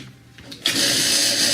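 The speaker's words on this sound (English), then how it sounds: "So let's plug in the vacuum pump." A vacuum pump switches on with a sharp onset after a quiet moment, then runs as a loud, steady whirring drone close by.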